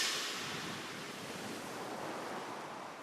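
Steady sea surf washes continuously for a few seconds, a broad rushing roar of waves with a slight swell at the start, unbroken and with no voices.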